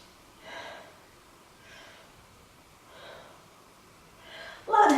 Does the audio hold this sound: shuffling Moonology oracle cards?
no